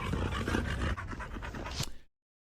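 A dog pants and whimpers up close while its tail is pulled during a live stream, giving a rapid run of breathy pants and short whines that stop abruptly after about two seconds.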